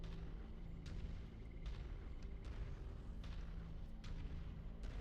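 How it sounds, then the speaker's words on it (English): Distant artillery fire in a video game rumbles as a series of dull, muffled booms over a constant low roar, faint and spaced irregularly with no speech. "Ooh, artillery."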